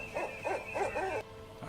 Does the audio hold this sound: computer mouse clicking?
no